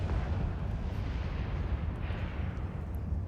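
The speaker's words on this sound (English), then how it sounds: "what makes this location very hazardous at the moment is all the other players shooting at each other" Spaceship weapons fire from many players battling in EVE Online: a dense, continuous rumble of booming blasts and bursts that blend together, with a few sharper pops on top and no voices.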